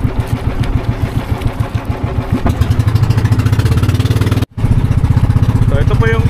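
A motorcycle engine, loud and close, chugs in steady pulses that quicken into a faster, smoother drone as the throttle opens, with a brief drop-out partway through.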